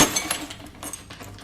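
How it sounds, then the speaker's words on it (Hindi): Glass cracking and clinking sharply as a hand strikes a car windshield in a horror story scene, a bright initial crack followed by scattered smaller ticks and splinters over a dull background. "वो विंडशील्ड पर हाथ मार रहा था। कांच में दरारें आने लगी।"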